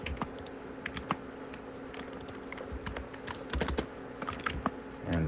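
Steady computer keyboard typing while coding a C++ 2D scroller game on a PC, rapid irregular key clicks close up with a faint background hum and no talking.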